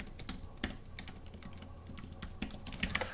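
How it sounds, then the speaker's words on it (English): Keys clatter on a computer keyboard in quick uneven bursts, close and fairly quiet, with brief pauses between runs of typing. "I know you can't see what I'm typing"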